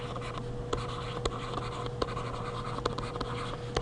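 Marker writing on a board during a linear functions lesson, a steady run of close, quiet scratchy strokes with small taps between them.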